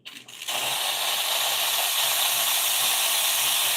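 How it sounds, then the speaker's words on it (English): Steam wand on a Wendougee Lita espresso machine bursts on with a brief click, then hisses loudly and steadily, a powerful continuous jet of steam held at even strength close by. "So the steam on the machine is instant."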